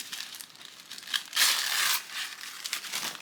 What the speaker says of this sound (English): I guess I have to rip